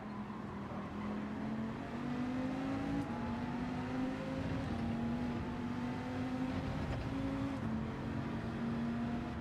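Race cars in Gran Turismo 7 drive in a tight slipstream pack, a steady engine drone with rising and falling pitch as gears change, holding loud and continuous throughout.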